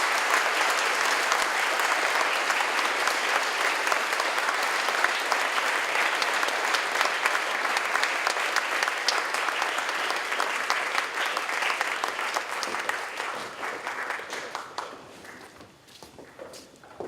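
Sustained applause from a school assembly audience honoring the 2018 scholars, dense and steady clapping that fills the room before tapering off near the end.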